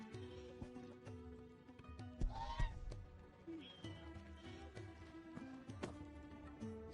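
Chocobo birds in Final Fantasy XVI give a few honking, goose-like calls over a steady background of game music and ambience, with one louder squawk in the middle.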